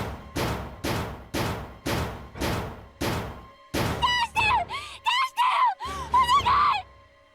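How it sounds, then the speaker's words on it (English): A woman named June in the video game Zero Escape: 999 pounds on a door, seven heavy rhythmic thuds in a row, then breaks into loud desperate wailing screams and sobs. "She screamed again, a desperate, mindless cry. Her fists flailed against the door."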